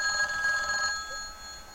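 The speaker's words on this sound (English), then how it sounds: "The ringing of the old phone breaks the chilling silence." An old telephone rings in the horror game Crimson Refflesia, a bright, trilling electronic ring that pulses briefly and then fades into a quiet, eerie ambient hum, with no voices.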